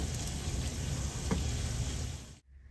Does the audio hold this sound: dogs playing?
no